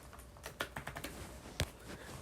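Quiet, close typing on a computer keyboard, a quick irregular run of light key clicks with one sharper tap near the end, alone with no voices.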